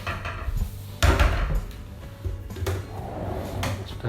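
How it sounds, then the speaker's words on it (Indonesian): A wooden drawer in a house slides and knocks shut with a couple of sharp clunks and scraping movements, at close range. "Sudah ada laci sini untuk menyimpan harta karun"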